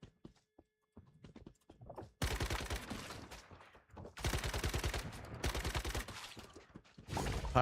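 Rapid bursts of automatic gunfire from the survival shooter Once Human, loud and sustained in several long volleys with short gaps, preceded by scattered lighter impact sounds.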